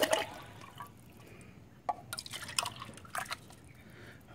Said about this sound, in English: I just want to pour this out just so you can see, because I want to do pours also